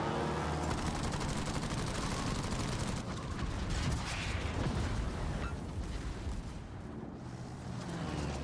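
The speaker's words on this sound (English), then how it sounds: "that's me firing secondaries" Secondary guns of a warship firing in a naval battle game, a dense rolling barrage of overlapping booms and cracks that runs on without pause, loud and close.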